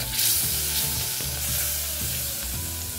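Butter melting in a pan for macaroni cheese white sauce sizzles and spits steadily up close, with soft scraping sounds of stirring underneath.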